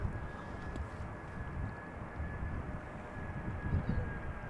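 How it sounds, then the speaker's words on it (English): An Airbus A320 (not the Neo) arrives at Amsterdam Schiphol, heard as a steady, broad jet roar with a low rumble that holds at an even level throughout, with no voices. "And this is an A320, not a Neo."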